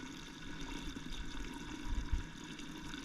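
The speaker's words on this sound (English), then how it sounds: "There, the water's coming out." Water gushing steadily from a garden hose during outdoor chores, a continuous broad hiss and splash with some low bubbling swells, moderately close and without voices.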